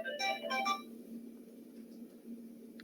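A phone rings during an online IT training session: a short burst of bright electronic ringtone notes at the start, then only a low steady hum.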